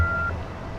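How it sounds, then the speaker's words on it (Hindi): A phone voicemail beep before message recording: one short, clean electronic tone lasting about a third of a second, followed by a low hum of line noise. "अगर आप वॉइस मैसेज छोड़ना चाहते हैं तो बीप के बाद अपना मैसेज रिकॉर्ड"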